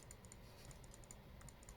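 Clicks of typing on a computer keyboard in a quick, uneven run of keystrokes, fairly quiet and close, with no voices.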